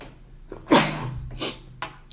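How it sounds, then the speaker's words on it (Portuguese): A person with rhinitis lets out one sharp, loud sneeze, followed by a few softer sniffs and breathy noises nearby. "Eu tenho rinite, gente, então estou espirrando desde sábado"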